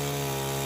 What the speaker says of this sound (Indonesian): Ini gergaji mesin yang sering kita lihat untuk memotong pohon-pohon besar.